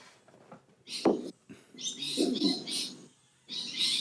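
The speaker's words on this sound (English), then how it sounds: "Parrots in the background." Parrots chirping and tweeting in the background in Australia, bright bursts of calls coming in repeated clusters, fairly distant and moderately loud, with occasional low sounds beneath.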